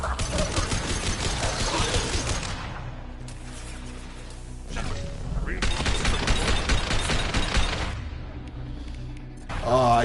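Rapid automatic gunfire from Mass Effect 2, in a level-one run against Collectors, in dense, loud bursts with brief gaps between volleys.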